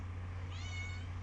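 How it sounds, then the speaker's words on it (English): A cat meows at a door, one drawn-out cry rising over a steady low hum, fairly faint and alone with no talk. "I have a meowing cat at my door that I should probably let inside"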